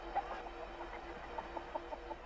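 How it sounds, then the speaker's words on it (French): A cartoon chicken clucks in a series of short, quiet, evenly spaced clucks over a faint steady background hum. "C'est un gallinacé, ce qu'on appelle un poulet."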